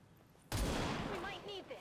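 A single sharp gunshot in XCOM 2 cracks out of a quiet background and trails into a long rumbling echo, with faint tonal game sounds in the tail.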